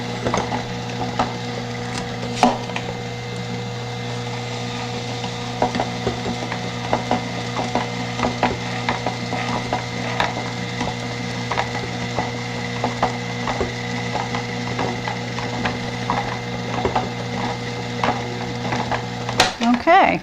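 A LifeChoice juicer crushes frozen fruit with a steady motor hum under a continuous grinding, ratcheting crunch. Small clicks and knocks run through the sound, up close and fairly loud.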